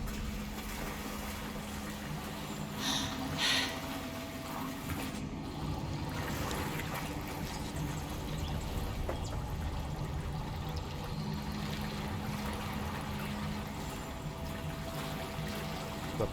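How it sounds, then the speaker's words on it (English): Bubbling water in Hogwarts Legacy, a steady low gurgling wash that runs without a break under a game ambience. "Look, where the water's bubbling."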